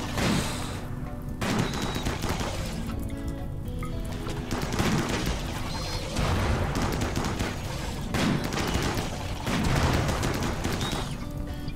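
Gunfire crackles in the video game Rimworld as several clustered bursts of shots repeat every couple of seconds, loud and continuous, like a sustained firefight with no voices over it.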